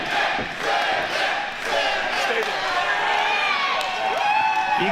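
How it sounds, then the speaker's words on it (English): Wrestling fans at a live independent event cheer and scream wildly in a loud, sustained crowd roar, with shouts and whoops rising and falling throughout. "You can hear the fans right now just going absolutely insane."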